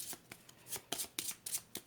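Final Girl terror cards are shuffled, giving a quick run of about six crisp riffling bursts, close and faint.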